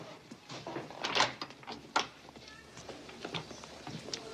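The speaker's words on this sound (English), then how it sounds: "Open the door, Mary." A door is opened in a quiet room in a 1984 film of A Christmas Carol. A few soft handling knocks and a brief latch-like click sit over low background noise.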